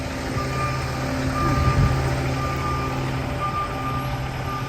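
A garbage truck on a New York City street sounds its steady reversing beeps at an even rhythm, over a low engine rumble and street noise.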